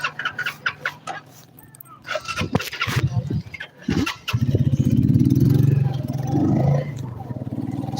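A motorcycle engine starts and settles into a steady idle hum, with chickens clucking nearby and brief voices in the background.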